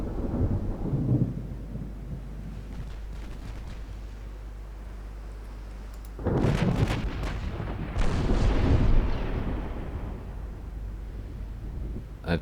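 Battleship main guns fire in a naval strategy game, heavy booming blasts that roll out into long rumbling echoes, with one deep report early and two more loud salvos later, no voices.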